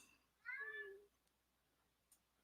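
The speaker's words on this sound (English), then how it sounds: "And my cat talking to me." A pet cat lets out one clear, drawn-out meow close by in a quiet room, followed by silence and a faint tick.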